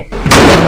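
A door slams shut in the Monika horror game, a loud, sudden, heavy bang that erupts and rings on with a dense, lingering wash.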